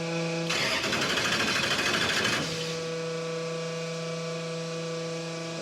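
A '67 Dodge Dart's engine cranks hard for about two seconds with rapid, rhythmic churning that fails to catch, then stops, leaving a steady background hum.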